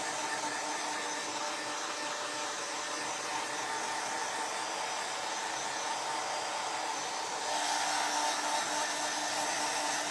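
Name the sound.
hair dryer blow-drying tacky paint on a craft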